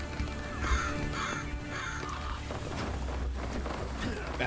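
Crows cawing in the game Graven, three loud harsh caws in a regular rhythm over a droning ambient bed, followed by fainter scattered game sounds.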